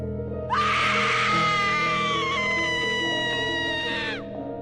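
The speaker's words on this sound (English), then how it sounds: "All I remember is waking up to a sudden and horrid screaming coming from upstairs." A sudden, horrid scream rings out, a single sustained high wailing cry held for several seconds before cutting off, loud and harsh, with no talk over it.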